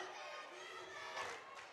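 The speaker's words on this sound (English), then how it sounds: "Webster crowd letting him know that he cannot, in fact, foul. It's one of the all-time not great student section cheers." Webster student section chanting at a high school basketball game against Britton Hecla, a steady, somewhat distant crowd roar of voices with a slight swell near the end.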